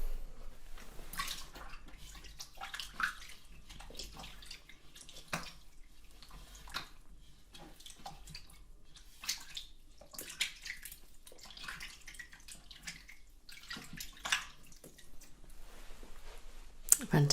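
Water runs softly while hands are rinsed, with intermittent splashes and wet rubbing as a person talks quietly over the flow.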